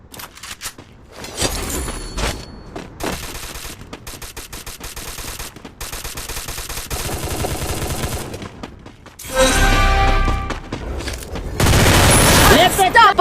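MP5 submachine gun fire in a Free Fire battle-royale game, rapid bursts and sustained fusillades with loud booming stretches near the end, mixed with game sounds.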